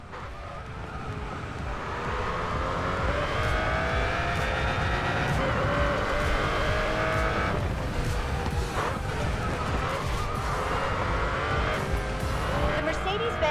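Mercedes-Benz CLK GTR race car in the Racing Master video game, with a steady engine roar rising and falling through gear changes on a night mountain run, plus tire squeal in the corners, loud and continuous throughout.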